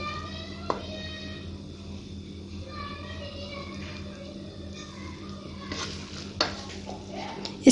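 Savory vermicelli cooked with potatoes is served from a pan onto a plate: soft scraping and stirring with a few sharp utensil clinks over a steady low kitchen hum, nearby and fairly quiet.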